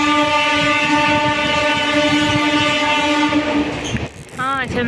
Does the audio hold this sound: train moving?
yes